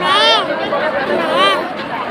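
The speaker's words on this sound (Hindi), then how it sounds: "तो देख लीजिए फैमिली कितना ज़्यादा भीड़ है" A large crowd of devotees at a big Shiva temple in Raipur fills the air with dense, loud chatter and babble, voices overlapping continuously close by.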